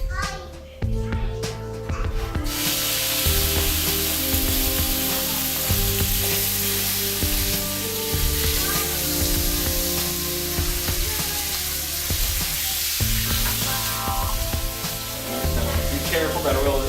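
Chunks of chicken breast fry in hot oil with a loud, continuous sizzle that runs throughout, mixed with steady background tones and some voices.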